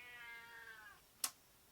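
A house cat meows faintly at the door to be let in, one drawn-out falling call followed by a single sharp tap, quiet and heard alone.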